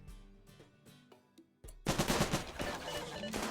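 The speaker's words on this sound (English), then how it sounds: "They fire in bursts," Turrets in RimWorld fire in rapid bursts, loud crackling automatic gunfire that starts after a few scattered lower shots and keeps rattling close by to the end.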